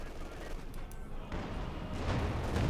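A Pak 40 anti-tank field gun fires in a Company of Heroes 2 battle: heavy booms and crackling gunfire roll together into a dense, steady din, with a commentator's voice partly audible underneath.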